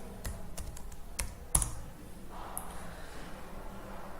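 Keys clack on a computer keyboard as a website name is typed into Google Chrome, a burst of quick, close taps with a louder stroke midway, then quieter background.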